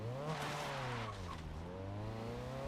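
Honda CRX in the Forza racing game winding up in third gear out of a corner at Mugello, the engine note climbing steadily with a faint tire squeal, loud and continuous.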